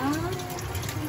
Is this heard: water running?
yes